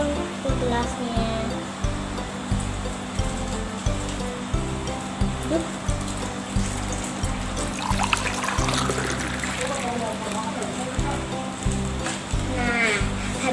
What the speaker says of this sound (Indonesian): Terus kita tuang ke gelasnya.